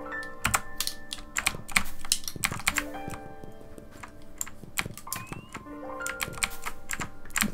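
Clicks from a computer keyboard come in quick irregular bursts as keys are pressed during a Knytt Stories platform game. Light electronic game tones play underneath and no one speaks.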